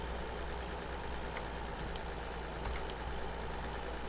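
A Vinues W400 tractor mod in Farming Simulator 2013 runs with a steady low engine drone, continuous and even, with faint clicks over the hum.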